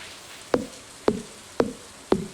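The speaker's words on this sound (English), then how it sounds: "But with chopping down all these trees, I might be able to get some more saplings" Axe chops on trees in the Stardew Valley video game, four crisp evenly spaced wooden knocks about half a second apart, close and clear with no talk.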